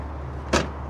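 An Airstream trailer's fold-away entry stairs flop back with a single quick, close clunk amid quiet background hum.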